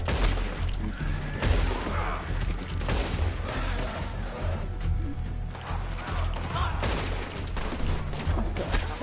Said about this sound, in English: I'm being shot at.